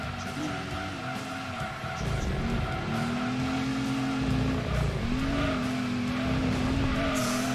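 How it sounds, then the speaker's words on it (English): Race car in the video game Gran Turismo 2 slamming hard into a wall during a 100-mile race, with a continuous engine drone, tire squeal and skidding tones rising and falling over about seven seconds, loud and close. "Oh, that's a big hit into the wall."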